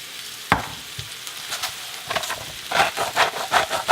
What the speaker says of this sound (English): I've got this sauteing up now.